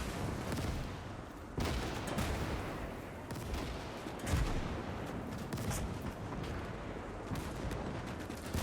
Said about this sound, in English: Oh, that's a Panzerfaust hit.